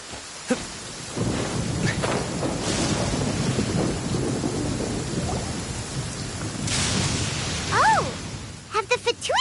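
A thunderstorm in the video game Genshin Impact gives steady rumbling thunder and rain noise, swelling at moments, with short bright chime-like tones rising near the end.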